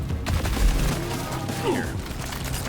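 Rapid gunfire rattling in the video game Deep Rock Galactic, a continuous dense barrage of automatic shots with booming impacts, loud and close throughout.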